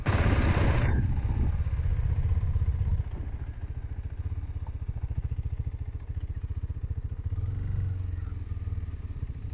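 A vehicle turns around on a steep, narrow mountain road, its engine chugging in a steady low rumble that swells at the start and again near the end, running continuously without speech.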